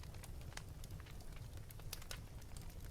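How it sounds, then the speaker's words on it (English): A wood fire crackles steadily, dense sharp pops and snaps scattered over a soft low rumble, close and even in level, with no voices. "Enjoy the sound of the crackling fire"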